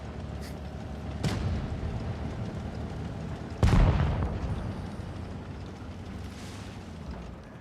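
Tank cannons boom in World of Tanks Blitz, a few heavy blasts with one big close shot followed by a rumbling decay, amid steady battle noise.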